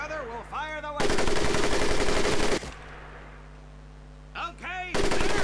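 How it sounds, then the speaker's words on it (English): An M1919 .30 caliber machine gun in a Pacific war video game fires two long, loud sustained bursts of rapid shots, separated by a quieter stretch with a brief shout-like voice. "the M1919 30 caliber machine gun"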